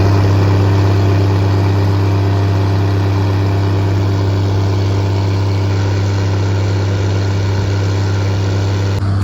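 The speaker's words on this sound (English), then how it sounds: "they're pumping manure here on the farm" Farm machinery pumping manure out of barn pits, giving a loud, steady, close engine drone with a strong low hum that runs unbroken throughout.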